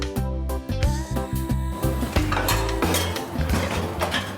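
Dishes and kitchen utensils are handed over and handled while preparing Tatar shanga with potatoes, a close, lively clatter of plates, bowls and cutlery knocking together in quick, uneven bursts.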